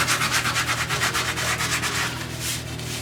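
Steady back-and-forth sanding of wood by hand in a woodworking workshop, a close, continuous rhythmic rasp with regular strokes and no talking.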